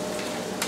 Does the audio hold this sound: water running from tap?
no